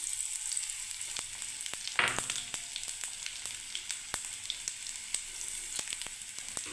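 Cumin seeds sizzle in hot oil alongside sliced ginger, making a steady bright hiss broken by frequent sharp crackles and pops, loud and close with no talking.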